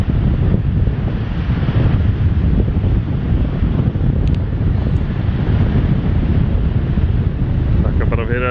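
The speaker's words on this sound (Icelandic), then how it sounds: "svolítið hvasst hérna" Strong wind buffets the microphone at Gjáin in Þjórsárdalur, Iceland, a loud, continuous roar with gusty rumble that persists throughout.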